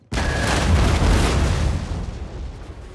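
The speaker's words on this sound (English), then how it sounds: "Getting a few volleys from the cannon at them already." A loud cannon volley booms in the video game Empire Total War, a sudden heavy blast followed by a long rolling rumble that slowly fades.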